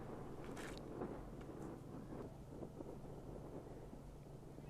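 Steady broadband wind rush buffets the microphone on an outdoor disc golf course during a tournament round in Wyoming, a constant low roar with faint gusts and no talk.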